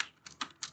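A few quick, quiet keystrokes on a computer keyboard, three or four separate clicks in under a second.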